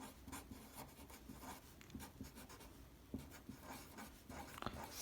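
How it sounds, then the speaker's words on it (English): A pen writes out a maths proof statement about odd numbers, giving faint, close scratching strokes in short irregular bursts with small taps between them. "and you write your statement"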